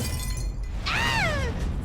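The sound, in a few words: drinking glass falling and shattering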